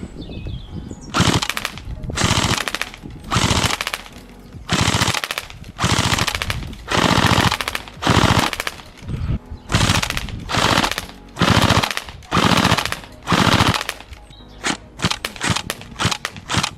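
Bursts of automatic fire from a Tokyo Marui FN Herstal SCAR-H Next Gen recoil shock electric airsoft rifle, loud and close, coming in a long run of separate rapid strings with short pauses between them and no talking.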